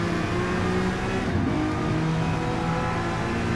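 Race car engine in a racing game, braking hard into a corner, with a steady loud engine drone that shifts slightly in pitch as the car slows, close and continuous with no talk.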